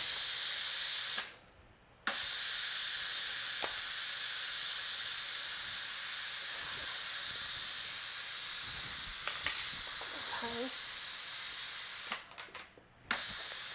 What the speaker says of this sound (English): the Instant Pot is going to start letting the steam out on its own